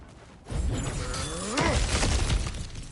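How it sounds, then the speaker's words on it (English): In God of War Ragnarok, objects smash and shatter in a loud, dense crash of breaking debris, with a second burst of splintering about a second later, and no talk. "back to smashing through things for fun and profit"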